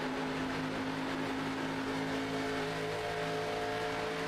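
ARCA race cars in a sim racing game at Michigan International Raceway give a steady loud engine drone with sustained tonal whine, several cars blending into one continuous roar without talk.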